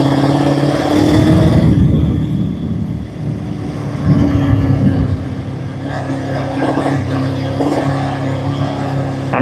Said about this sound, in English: It feels like it's, the best way I can describe it, feels like it's running on one cylinder.